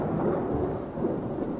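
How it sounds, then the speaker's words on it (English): A tropical storm brings a steady rumble of thunder blended with dense rain, a continuous low roar that feels close and full, with no voices. "Let's make it a tropical storm with thunder and lightning."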